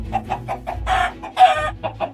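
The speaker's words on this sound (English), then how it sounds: "I then left the base and then went into a field where I found a little chicken." A chicken in the video game Minecraft clucking in a quick rhythmic series of short bursts, with two longer, harsher squawks partway through, loud and close with no speech.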